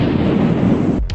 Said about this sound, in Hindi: मगर इस नष्ट करने के दौरान भयानक विस्फोट हुआ